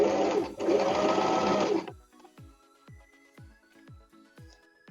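A sewing machine runs fast over a previous seam on a bra, loud and steady for almost two seconds, then slows to a string of separate, fainter stitch thumps.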